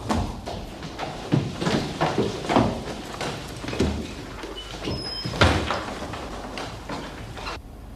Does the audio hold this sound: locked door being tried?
yes